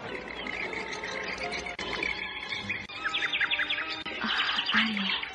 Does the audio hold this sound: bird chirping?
yes